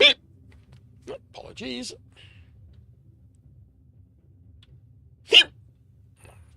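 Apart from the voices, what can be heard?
hiccups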